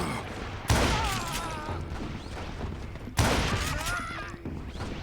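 Gunshots from the Western shooter game Call of Juarez: Gunslinger, two loud bursts of firing with ringing tails, each followed by sustained battle noise and scattered shots.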